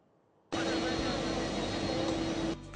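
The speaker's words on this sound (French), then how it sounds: "À l'arrivée de l'avion de Air France" An Air France airplane arriving at an airport, its jet engine roar cutting in abruptly loud and close with a steady whine and drone, then easing slightly before the end.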